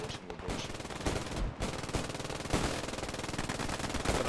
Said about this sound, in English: Oh yeah, they still have an MG watching the bridge.